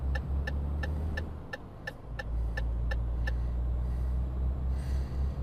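Renault Premium truck engine in Euro Truck Simulator 2, a steady loud low drone that dips and rises again, with a regular series of clicking ticks running over it through the first half.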